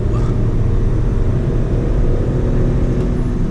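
A Tata Altroz DCA with a naturally aspirated engine accelerates toward 100 km/h, a loud, steady engine drone with road noise heard from inside the car and no talking.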